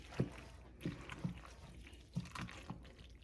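Eggs being mixed into macaroni salad in a bowl: soft, wet squelching and stirring pulses at an irregular rhythm, close and fairly quiet.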